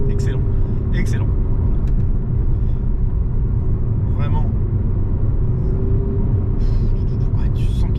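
An electric Abarth 500 driving along a small road, a steady close cabin rumble of the car in motion, with people talking briefly over it.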